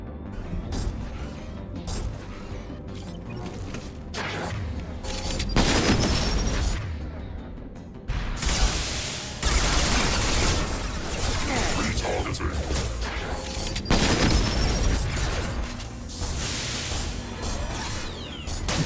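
Weapons fire in the video game Mass Effect Legendary Edition, dense bursts of loud shots and mechanical clatter in several dense stretches, with crashing impacts between them.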